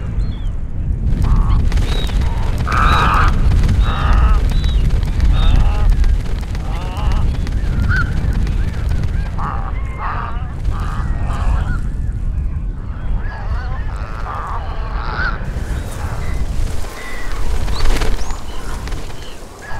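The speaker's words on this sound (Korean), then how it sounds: "마을 뒷산을 찾아온 새들도 하루가 다르게 늘어난다" Wild birds, grey herons and great egrets among them, call from a nesting colony on the wooded hill behind a village in early April, their honking, goose-like cries overlapping loudly and steadily over a dense background throughout.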